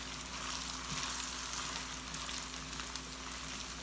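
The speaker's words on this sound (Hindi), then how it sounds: "हम पहले चावलों को थोड़ा घी से इसकी कोटिंग करेंगे।" Rice sizzles steadily in hot ghee in a pan while being coated for sweet zarda, a continuous close frying hiss with a single brief clink near the end.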